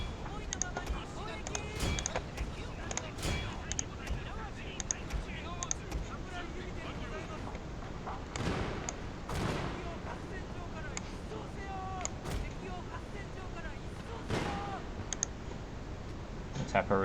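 Ranged units firing uphill in a Shogun 2 Total War battle, with archers in front, as dense overlapping clicks and sharp volleys ringing out repeatedly over a steady battle din, while someone talks throughout.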